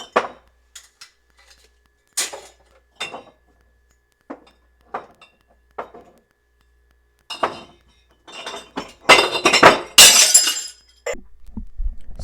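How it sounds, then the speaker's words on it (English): Glass jar dropped from a pantry shelf onto another jar on the floor, shattering with a loud crash and scattering shards, preceded by scattered clinks of glass jars being handled. "I dropped one off of here and it hit this one on the ground and shattered it"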